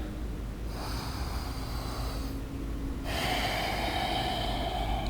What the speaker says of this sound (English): One more big breath in and out.